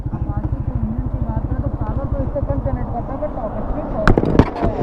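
A 2024 Bajaj Pulsar NS160 and a TVS Apache 160 2V motorcycle drag race, with a steady, rapidly pulsing engine note that climbs in pitch under acceleration and ends in a few sharp, loud crackling bursts.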